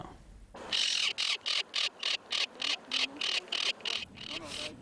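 A tropicbird, or paille-en-queue, calls from deep inside its nest cavity in a national park, a loud, close series of about a dozen rhythmic shrill bursts after a brief quiet start.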